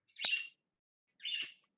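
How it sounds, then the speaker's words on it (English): Two short, bright bird chirps ring out a second apart, each clear and isolated against silence. "Birdies!"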